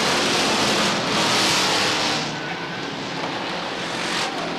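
Race cars accelerating at Beech Ridge Motor Speedway, a loud continuous roar of several engines side by side, swelling and then easing slightly as they pass, with no talking.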